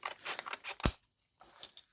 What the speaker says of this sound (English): cutting sandpaper with the scissors actually helps sharpen it